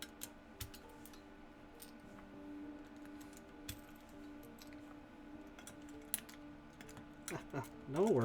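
Keycaps being pulled from one mechanical keyboard and pressed onto another, scattered light plastic clicks and taps over a low steady hum, with a short scrape near the end; fairly quiet and close.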